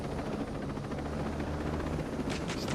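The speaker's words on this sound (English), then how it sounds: "Just land your chopper." A helicopter in the video game Ghost Recon Breakpoint comes in to land on an island off Wild Coast, its rotor producing a continuous, close, throbbing whir with a low engine drone.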